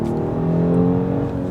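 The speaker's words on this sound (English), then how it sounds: "So if I go ahead and put my foot on the throttle" A 2020 Genesis G90 in sport mode accelerates under throttle, its engine giving a steady, smooth hum that swells slightly and stays close and constant inside the cabin, with no talking.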